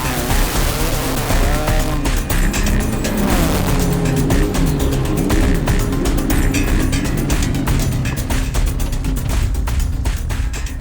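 A race car driven by Mario Andretti at the Indianapolis Motor Speedway roars loudly and continuously at close range, its engine pitch rising and falling through gear changes and speed shifts for the whole stretch.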